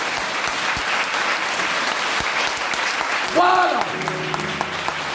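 A church congregation at a French-language spiritual revival service claps in sustained, dense applause, with a voice speaking briefly over it partway through.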